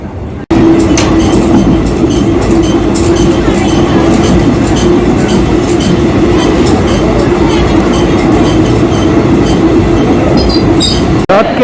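A train pulls out from platform 2 at Raichur station at night, a loud, steady rumble of rolling wheels and rhythmic clatter with a sustained hum, close and continuous for several seconds, ending in an abrupt cut.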